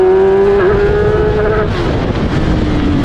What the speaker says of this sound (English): Of course, the engine sounds fantastic.